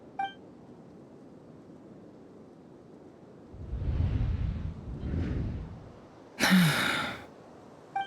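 A female character in the Genshin Impact video game draws a sharp, breathy gasp. The airy intake rises out of quiet, followed by a second softer breath and a brief bright tone.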